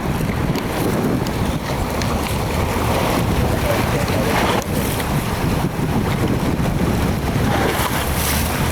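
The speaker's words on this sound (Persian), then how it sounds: "آب داره میخوره به سرفیس" Water slapping and rushing against the hull of a moving boat at sea, a loud, continuous churning wash with heavy wind buffeting the microphone throughout.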